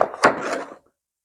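A big snowball being shoved aside with a brief woody creak and scrape, a close, dry rubbing groan lasting under a second before falling silent.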